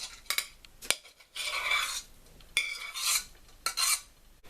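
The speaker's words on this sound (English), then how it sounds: "But I'm just mashing them now." Swedes and parsnips being mashed in a pot for leftover curry: rough, scraping strokes in uneven bursts with sharp knocks of the masher between them, close and clear.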